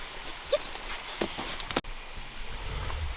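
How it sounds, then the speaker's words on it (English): A restless dog at night on a trail camping trip whimpers and yips in short, faint bursts against a quiet background hiss, with a brief rustle near the middle. "this dog will not calm down"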